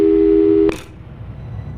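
Telephone busy signal in the Portal 2 video game, a steady two-tone electronic beep that holds loud and clear for under a second, then cuts off abruptly with a brief click into faint low background hum.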